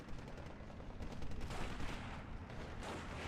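Heavy 1,000-kilo bomb explosions from a bomber in the Steel Division 2 war game land on an infantry squad, a dense, rumbling barrage of blasts and crackling gunfire, fairly distant and continuous.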